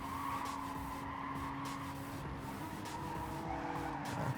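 Engine of a race car held on the rev limiter in the GT Sport video game, a steady, buzzing drone with rapid stuttering cuts, mixed with tire squeal throughout.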